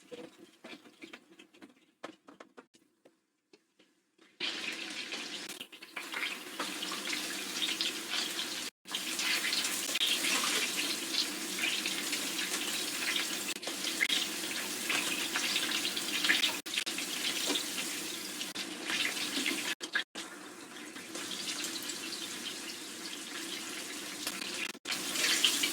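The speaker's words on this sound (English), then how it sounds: "Drain some of this." Liquid from a cassoulet cooking pot pours into a sink, a steady splashing, pattering rush that starts abruptly after a few quiet seconds and runs continuously with brief breaks, close and fairly loud.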